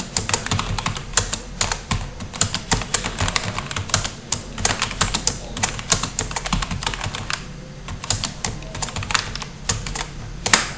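Text is typed on a computer keyboard in a steady run of close, crisp keystrokes, with short pauses between bursts and no voices.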